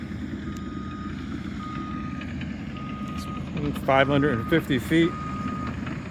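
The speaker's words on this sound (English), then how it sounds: "here's the dump truck that they have that they're using to dump all the gravel in the driveway" Reversing beeps from a dump truck unloading gravel onto a driveway, a short run of regular pulsed tones over a steady engine rumble outdoors, with a voice speaking nearby.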